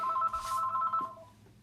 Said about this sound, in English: No one ever calls on our home phone, so I don't even know why.